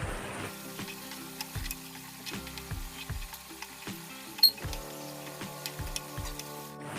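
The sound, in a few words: sugar syrup bubbling with carrots for carrot halwa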